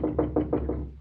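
Five quick, evenly spaced knocks on a door sound close and solid, with no voices during them.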